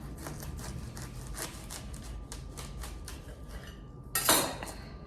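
A knife saws and chops through the top of a watermelon in quick repeated strokes, ending in a louder clattering crunch as the top comes loose; no one speaks.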